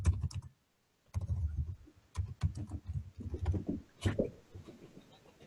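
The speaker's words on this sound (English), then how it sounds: "I'll just type in American Indian Movement." A search gets typed into YouTube on a computer keyboard, a quiet run of close, irregular key clicks in short bursts with a brief pause near the start.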